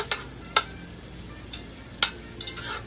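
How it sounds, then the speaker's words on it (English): Bacon fat and fatback frying with vegetables in a pan for a meatloaf meal, a soft continuous sizzle broken by several sharp clicks and scrapes of stirring, close and without talk. "the oil off the bacon and the fat back is going to cook along with the vegetables as well"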